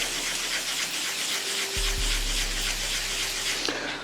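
Hand sanding of painted guitar paint during a restoration, a steady broadband rubbing hiss running continuously and fairly close, with a low hum entering partway through.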